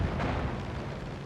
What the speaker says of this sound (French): On va utiliser les bombes pour ceux-là